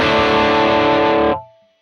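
Electric guitar run through a Colosseum drive pedal on a worship pedalboard, a thick distorted chord ringing loud and sustained, then cut off abruptly with a brief fading tail.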